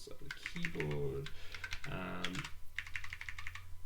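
Rapid clicking of computer keyboard keys in bursts during a programming session, with a voice talking over parts of it.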